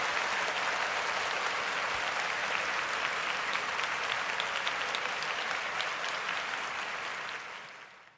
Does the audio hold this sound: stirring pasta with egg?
no